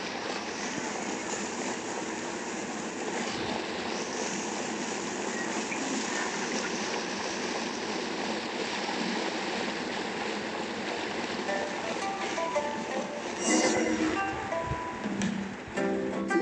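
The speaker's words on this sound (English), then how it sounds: "Are the waves here always like this?" Ocean waves in Genshin Impact, a continuous broad wash of surf rolling on steadily for the full length, with a brief brighter splash near the end and no one speaking.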